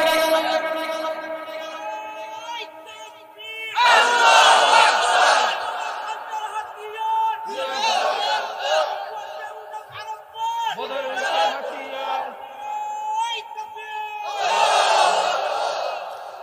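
Large crowd at a religious gathering shouting takbir in unison, loud swelling bursts of massed voices roughly every three to four seconds, separated by a single sustained voice leading the call between them.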